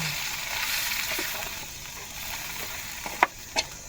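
Puffball mushrooms fry in a pan over a cooking fire in the forest. A steady, close sizzle runs throughout, with a couple of sharp clicks or taps of a utensil near the end and no voices.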